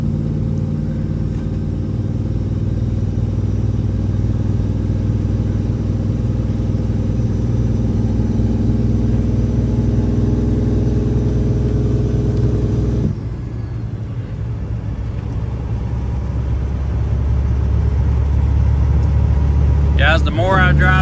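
A car drives steadily down a road, its engine a loud, continuous low drone with road rumble; the tone shifts briefly midway before settling back, and no one talks.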